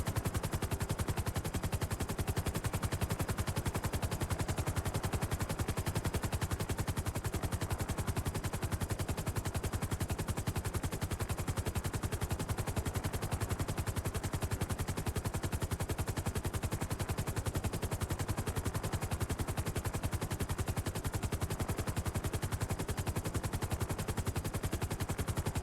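Sustained automatic gunfire rattles on without pause during a video game roleplay warrant operation, a dense, loud and unbroken stream of rapid shots.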